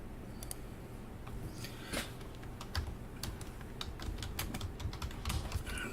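Fingers typing on a computer keyboard at a desk, quick irregular clicking keystrokes up close, with brief pauses and low room noise beneath.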